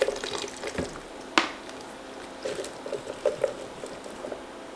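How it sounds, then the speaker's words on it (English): Fermented hot sauce liquid poured into a bowl, intermittent splashing and trickling bursts with small drips between them, close and fairly quiet. "take out some of this liquid into a bowl because I wanna get the solids blended first"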